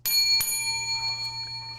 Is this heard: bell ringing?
yes